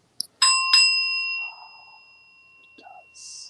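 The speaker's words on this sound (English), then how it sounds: "now I'm going to ring the bell and bring us into our sacred moment" A hand-held bell struck once to open a sacred moment at a New Thought Sunday celebration, with a bright ringing tone that sustains and slowly fades, followed by a few soft rustles.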